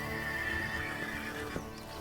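Horse neighing in the medieval strategy game Manor Lords, a long whinny near and fairly clear over soft hoofbeats and a busy village ambience, with no talk.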